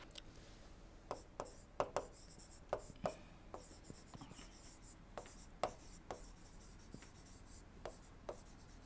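Chalk or pen strokes sound sharply on a board during a thermodynamics lecture, quiet scratchy taps in an irregular rhythm of short clustered marks and pauses, with no talking over them.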